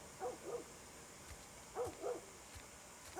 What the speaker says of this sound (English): There's a dog barking.